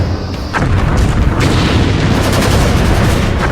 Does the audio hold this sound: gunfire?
yes